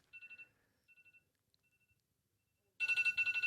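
A mobile phone rings across the room in short trilling bursts, first faint and broken, then suddenly louder and brighter in rapid repeated pulses, with no talk over it.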